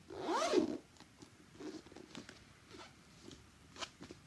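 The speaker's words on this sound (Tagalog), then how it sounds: "Tapos meron siyang zipper." A zipper on a Burberry document bag pulled in one quick rasping stroke at the start, close and clear, followed by faint soft handling rustles.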